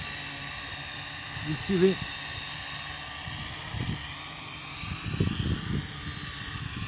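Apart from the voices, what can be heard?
R'Bird DMS240 drone flying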